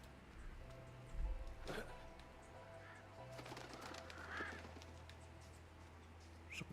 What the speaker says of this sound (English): Some crows flapping around.